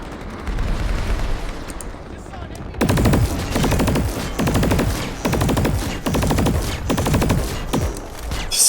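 Gunfire in the online shooter Planetside 2: sustained rapid automatic bursts, loud and dense, starting after a quieter stretch and continuing in repeated volleys, with faint talk underneath.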